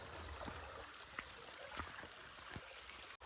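Stream of water flowing below a white clay hill at an ashram, with a steady, faint, broadband wash and occasional small splashes, heard from some distance.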